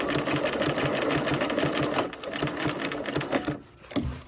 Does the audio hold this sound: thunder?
no